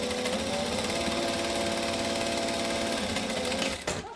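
A quilting sewing machine runs in a steady, continuous mechanical hum with rapid stitching chatter, loud and close, then stops abruptly near the end.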